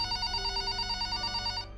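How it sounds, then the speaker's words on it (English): Telephone ringing at about 3 a.m. while someone sleeps, a steady repeating electronic ring with a regular warble, loud and close, stopping abruptly near the end. "I had been sleeping when my phone begins to ring"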